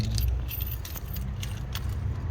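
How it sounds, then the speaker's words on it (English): Keys for a 2018 Toyota Landcruiser Prado GXL, with central locking fobs, jangle close up in a steady metallic rattle over a low background hum, with no talk. "you've got 2 genuine keys there"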